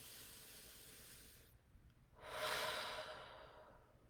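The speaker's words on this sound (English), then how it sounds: "Let's take a deep breath together" One slow, deep breath close to the mic in a quiet room, a soft airy inhale followed after a short pause by a longer, louder hissing exhale.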